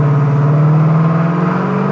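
A 1968 Pontiac GTO convertible accelerates on the road, its V8 engine giving a loud, steady, rising drone with strong low harmonics heard close and alone.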